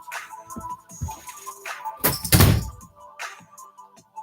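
A household door being shut with a thud, one heavy low knock standing out among quieter bumps and rustles nearby.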